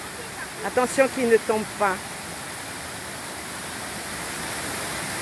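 A double waterfall at the Andlau cascade gives a steady, loud, broadband rush of falling water throughout, with someone speaking briefly over it near the start.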